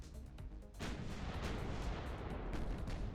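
Naval gunfire in the warship game Ultimate Admiral Dreadnoughts, a series of dull booming artillery shots with a heavier blast near the start, followed by continuous rumbling bursts, fairly quiet and distant with no talking.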